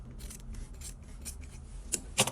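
Fabric scissors snip through coat material while shortening a coat at home, a few faint quiet cuts followed by two sharper crisp snips near the end, with no talking.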